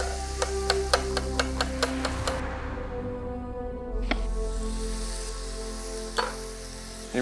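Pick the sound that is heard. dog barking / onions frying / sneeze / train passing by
onions frying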